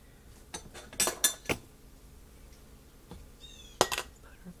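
Metal canning funnel set into a glass jar for roast beef hash, giving a few sharp close clinks of metal and glass in a quiet kitchen, followed by a lone later clink.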